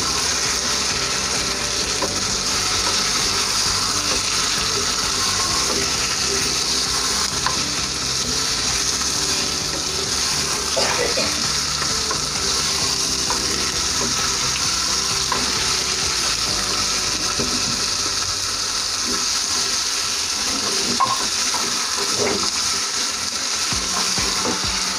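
Chicken frying for pulav sizzles steadily in a pan with a constant hiss, while occasional scraping and clinking of a spoon stirring it comes through close up.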